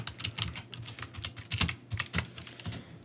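Fingers tap quickly on a computer keyboard while writing ExtendScript code, a steady close run of light clicking keystrokes with no talking.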